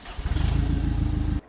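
A classic car engine catching after a dose of brake cleaner, giving a brief rough, pulsing rumble of firing that runs for about a second before cutting off.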